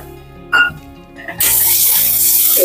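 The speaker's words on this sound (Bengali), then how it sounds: "বন্ধুরা জল দিয়ে দিলাম" Water splashes into a cooking pot for potol dorma, a short clatter first, then a steady rushing pour that runs to the end.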